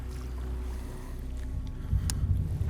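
Bass boat engines running on a lake during a bass fishing tournament, a low steady drone with a rougher surge near the end, under wind and outdoor noise.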